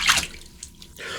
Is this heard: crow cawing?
no